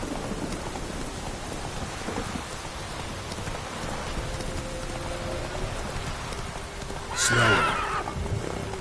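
Geralt's horse Roach in the video game The Witcher 3 lets out a sharp, close whinny near the end, over hoof clip-clop and steady rain falling throughout.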